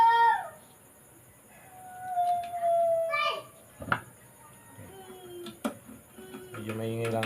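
Children play noisily nearby during hands-on assembly work, with high excited voices calling out in bursts, a few sharp knocks and taps between them, and a squealing chorus rising at the end.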